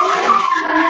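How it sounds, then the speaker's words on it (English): A drift car at a Drift Matsuri Pro3 final blasts off from the start gate, its engine roaring loud and steady with tires squealing continuously throughout, with no voices over it. "Jack sending off the car from the start gate."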